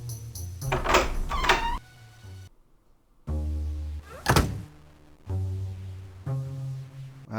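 Heavy doors in the Frankenstein: Through the Eyes of the Monster game open with resonant thunks and low creaking, then a loud sliding scrape and a rumbling mechanical drone.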